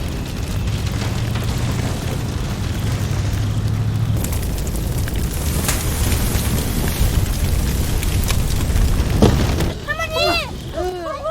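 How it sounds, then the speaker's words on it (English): Roaring, crackling fire spreading through a farm building in a film scene, a loud continuous rush with pops and bursts, and voices calling near the end. "the fire spread out in the meantime"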